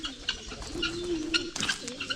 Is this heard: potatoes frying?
no